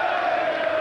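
A large crowd roars and cheers in a packed hall at the 2006 Darts World Championship as practice begins, a dense, sustained, loud wall of voices with no pauses.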